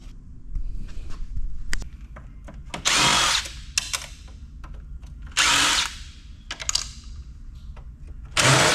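A power drill unscrewing screws from heavy electronic scrap such as transformers. Three loud, close whirring bursts of a few seconds each are separated by clinks and handling noises of metal parts.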